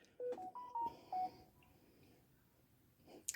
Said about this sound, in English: Sorry, I just got a text message confirmation.